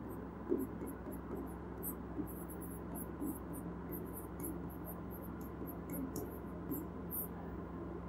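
Chalk or marker scratches on a classroom board in short, regular strokes, faint against a steady low hum of room noise, with no talking.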